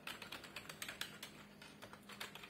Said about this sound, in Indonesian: Untuk diketik-ketik responnya juga cepat